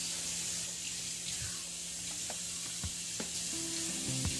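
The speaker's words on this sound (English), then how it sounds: "So I wash my yam" Yellow yam being washed under a running kitchen tap, with steady hissing water flow and occasional small knocks and clinks as the yam is handled in the sink.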